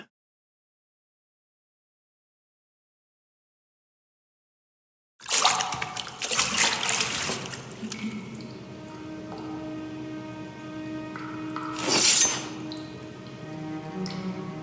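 Bath water in the game Reign Of Nightfall: after several seconds of silence, gentle dripping, trickling and soft splashes begin and continue, with a brighter splash near the end.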